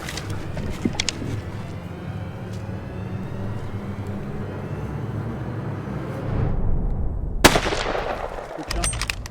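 A rifle shot cracks out once during a hunt in Zambia's Luangwa Valley, a sudden loud burst over a steady outdoor rumble, with faint noise carrying on after.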